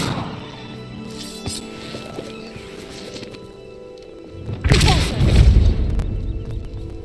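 Bombarda explosion spell in Hogwarts Legacy, a sudden loud blast about two-thirds through that bursts out and rumbles on, preceded by quieter ambient game sounds.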